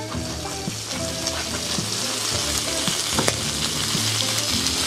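Prawns seasoned with salt, pepper and Espelette pepper sizzle and fry loudly in a hot pan before being flambéed with pastis, a constant crackling hiss with stirring clatter and no talking.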